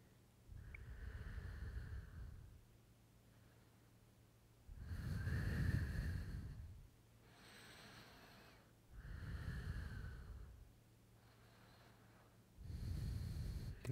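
Slow, deep breaths during a hip-stretching routine for splits, about four long inhale-and-exhale cycles spaced evenly, each rising into a close, airy rush and then falling back to near silence.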